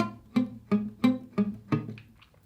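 A string of six quick plucked guitar notes, evenly spaced, each sounding a little buzzy and muted from a fret not pressed hard enough before fading.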